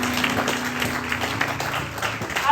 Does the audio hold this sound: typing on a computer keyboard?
no